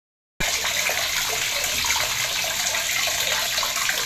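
Water pours steadily over a child's head to rinse it during a bath, a sudden start followed by a loud, constant close gush that doesn't let up.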